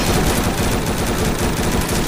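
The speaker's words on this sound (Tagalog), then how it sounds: "machine gun." Video game machine gun fire in a capture-the-flag match, a loud, dense, unbroken burst of rapid shots that stays continuous for the full stretch.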